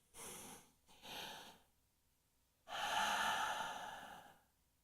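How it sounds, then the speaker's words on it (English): A group breathing together in a quiet room: three slow, deep breaths, close and soft. The first two are short; a longer exhale follows after a pause, with no talking. "I invite you to breathe with me just right now."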